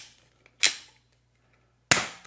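Two sharp snapping shots from a Star Trek NERF phaser rifle toy firing darts, well apart and close by, each a crisp burst that fades quickly.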